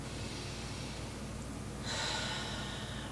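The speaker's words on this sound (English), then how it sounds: "And then you just take a deep breath" A deep breath drawn in during a stress-release wellness exercise, a soft hiss of air that swells to a louder intake over its final second, close and alone without talk.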